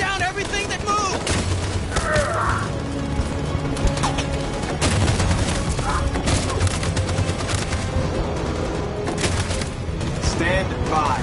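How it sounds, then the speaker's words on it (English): Sustained automatic machine gun fire in the video game Detroit: Become Human, a loud, dense fusillade of rapid bursts running throughout, with shouted voices and battle noise mixed underneath. "That machine gun is taking down everything that moves!"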